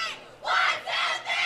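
A girls' high school bowling team at a state finals cheers in unison, three loud rising bursts of shouted chanting in quick succession inside a large hall.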